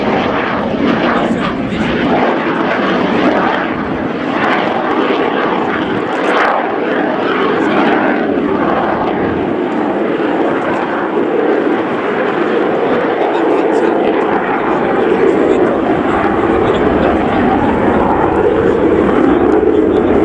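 A Czech Air Force Gripen fighter jet flies a display at the RIAT air show at Fairford in 2017, its engine a loud continuous roar that rises and falls as a commentator speaks over it.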